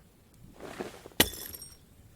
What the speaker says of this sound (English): hundreds and hundreds of glass apples fall from these trees, shattering on the ground